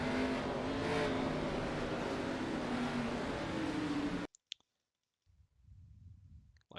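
A race car engine roars loudly and steadily during an ARCA race at Richmond as cars gas up for a restart, then cuts off abruptly, leaving near silence with a few clicks and a faint low rumble returning.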